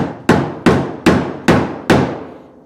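Five loud, evenly spaced hammer blows ring out as a body panel on a 1967 Camaro is knocked into place, each strike decaying briefly before the next.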